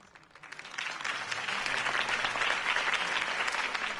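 Crowd applause after a campaign speech for Harvey Dent in a Batman video game, clapping swelling from light to full, dense and sustained, at a moderate distance with no distinct voices.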